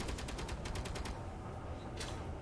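Rapid automatic gunfire in Space Engineers, a fast run of sharp shots for about a second, then a lone burst a moment later, set over a steady low rumble of game ambience.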